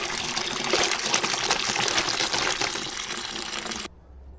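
Water gushes and splashes steadily while okra is washed outdoors in a village, loud and close for several seconds, then cuts off abruptly into near silence.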